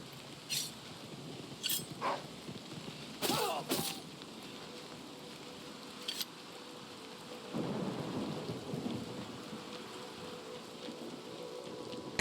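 Rain falls steadily while thunder rolls in the game Oblivion. Sharp cracks of thunder break out at intervals, and a long low rumble swells near the end, all over a constant hiss of rain.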